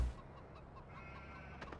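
Chickens cluck softly in Farming Simulator 15, a few faint, scattered clucks over a quiet farmyard background with no talking.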